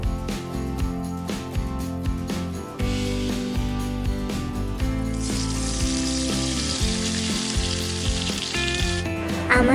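Potatoes fry in a small pan during miniature cooking, a soft sizzle that swells into a bright steady hiss in the second half, heard over background music.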